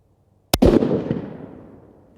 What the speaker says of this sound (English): I'm going to shoot again, aiming at the center.